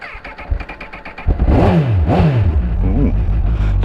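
A motorcycle engine revs loudly and close with a deep, throbbing dugga-dugga note, its pitch sweeping up and down in repeated throttle blips over a steady rumbling idle.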